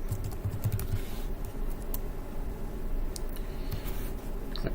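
Steady burst of computer keyboard typing while a file name is entered, close and continuous, with no talking over it.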